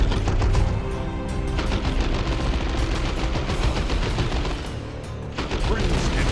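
Ork enemies in the video game Dawn of War 2 open fire: dense, continuous bursts of loud rapid gunfire and crackling shots, sustained throughout with a short dip before the barrage picks up again.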